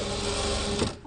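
A sewing machine stitches quilt patches in a fast, continuous, close whirring run that stops abruptly after about a second.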